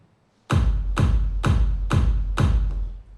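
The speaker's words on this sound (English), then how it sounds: "This is my kick, so it's long already." Five heavy, booming electronic kick drum hits in F sharp in a steady rhythm, each with a sharp click and a long deep low-end tail, loud and alone.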